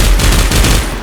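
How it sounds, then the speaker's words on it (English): An MG-42 machine gun in a Minecraft mod firing a rapid, very loud, evenly paced burst of shots at close range with no pauses. "So if I whip out the MG, I can blow off his head."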